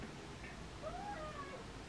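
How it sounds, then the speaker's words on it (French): Mimine, a pet cat, gives one soft, drawn-out meow over steady low background hum. "Qu'est-ce qu'il y a mon chat?"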